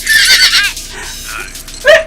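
A horse in the animated film Spider-Man: Across the Spider-Verse lets out a loud, shrill whinny that quavers and fades, followed by a shorter snort-like call near the end.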